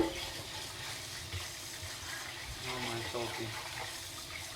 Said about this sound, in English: I'm gonna rinse it off again.